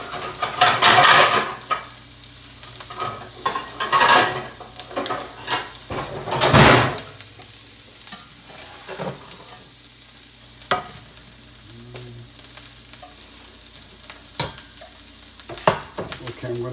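Shallots fry in a hot pan with a crackling sizzle, stirred with clattering utensil scrapes and pan knocks, loudest in bursts early on before settling into a quieter steady fry.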